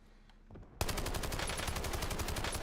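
Heavy automatic gunfire in the Battlefield 6 video game bursts in suddenly after a quiet moment, then continues as dense, rapid, loud shooting that fills the rest of the clip.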